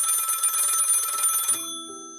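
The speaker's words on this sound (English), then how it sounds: "But Sunday night, Tiffany's phone rang." A telephone rings with a steady electronic trill, loud and close, running continuously for about a second and a half before cutting off into a faint lingering tone.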